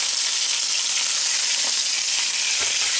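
Chicken pieces sizzle loudly in a hot pan just after being flipped for a roast chicken dinner, a dense, steady frying hiss up close with no break and no voices.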